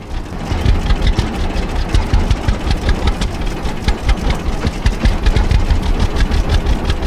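A tractor engine in the Farmer's Dynasty farming simulator runs continuously, a loud, close, rhythmic chugging with steady pulsing throughout and no talk over it.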